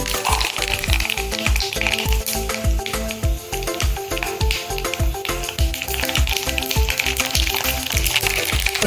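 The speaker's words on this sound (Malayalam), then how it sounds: "എണ്ണ നല്ലപോലെ തിളച്ചിട്ടുണ്ട്. അതിലേക്ക് 1 ടീസ്പൂൺ കടുകിട്ട് പൊട്ടിക്കുക." Mustard seeds splutter and pop rapidly in hot oil, a fast irregular crackle of sharp little bursts over a continuous sizzle.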